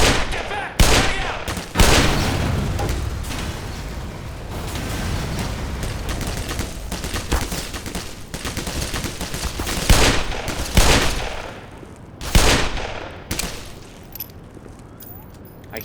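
Repeated gunfire from a revolver in the video game Black Mesa, several loud sharp shots spread across a busy, noisy firefight with constant rumbling background.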